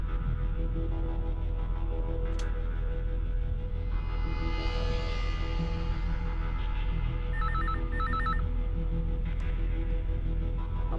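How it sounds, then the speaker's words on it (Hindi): A telephone rings in a tense police-drama setting, a steady electronic ring with brief repeated bursts over a constant low hum and background tone, with no talk. "तुम मेरे को फिर से फोन कर यार शमशेर।"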